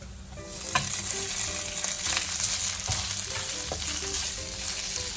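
Cold leftover rice fries in a pan with browned garlic, a steady loud sizzle broken by scraping stirs and clinks of a utensil against the pan, with no talking.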